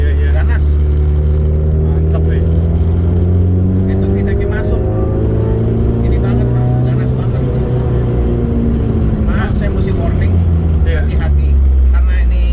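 A Honda Civic EG6 with a VTEC engine revs steadily and loudly throughout, its engine note rising and falling, while people talk over it.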